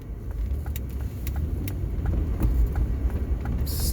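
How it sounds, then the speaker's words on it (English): A car engine rumbles low and steady while sitting in slow traffic, a continuous close drone with faint ticks and clicks on top, no voices. "Stuck in traffic behind a Maserati."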